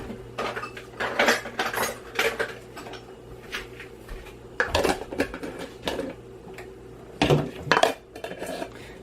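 Glass jar lids for homemade whole-milk yogurt clatter and clink in repeated bursts of handling, close and fairly loud, with quieter rattles between the clusters and no talking.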